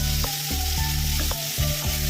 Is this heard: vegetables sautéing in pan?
yes